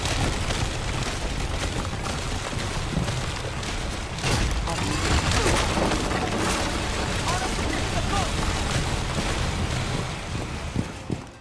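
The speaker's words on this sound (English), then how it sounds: "Not to mention the amount of noise this little tank makes is mental." A remotely driven drone tank in Rainbow Six Siege grinds along loudly, a dense, harsh rumbling clatter that fills the whole stretch and eases off near the end.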